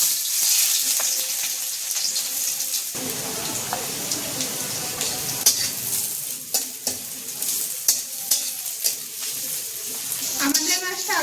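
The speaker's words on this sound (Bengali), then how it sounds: "তেল গরম হয়ে গেছে, এবার আমি পেঁয়াজ কুচি দিয়ে দেবো।" Chopped onions drop into hot oil for an ilish fish bhuna, bursting into a bright steady sizzle, then stirred with repeated spatula scrapes and knocks while a voice talks over the frying.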